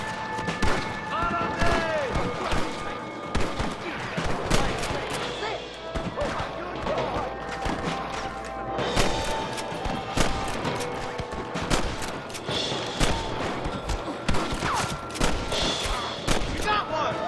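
Gunfire in a video-game shootout with cattle rustlers in Red Dead Redemption, with loud, sharp shots cracking repeatedly and in clusters throughout, mixed with thuds, background score and occasional shouted dialogue.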